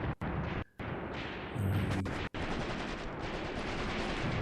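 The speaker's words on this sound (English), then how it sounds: "it's just the machine guns that are opening up at this point of the battle" Machine gun fire in the war strategy game Graviteam Tactics, a dense continuous rattle of distant automatic bursts filling the battlefield ambience, broken by a few brief gaps, with no voices.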